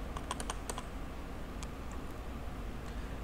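Computer keys clatter in a quick burst of several close, crisp taps, then a few scattered single clicks, while simulation software for a GSK928TC CNC lathe runs, with steady background hiss and no voices.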